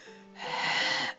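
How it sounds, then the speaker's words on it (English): A heavy, wheezing breath is heard over a phone line in the game Taisho Alice: one drawn-out rasping exhale, fairly close, after a faint low tone. "Heavy breathing on the phone."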